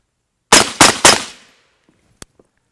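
Three loud, sharp rifle reports in quick succession from a 7.62 rifle fitted with a Rugged Surge suppressor, each with a short decaying tail, followed by faint clinks of brass or gear and no talking.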